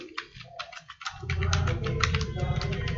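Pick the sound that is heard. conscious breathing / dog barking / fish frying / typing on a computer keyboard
typing on a computer keyboard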